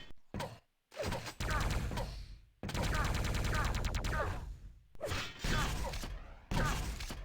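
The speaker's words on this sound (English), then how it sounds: "Two times rocket jump." Rocket jumps in Quake III DeFRaG: repeated loud blasts and explosive thumps in quick bursts, with dense mechanical game effects between short gaps of silence.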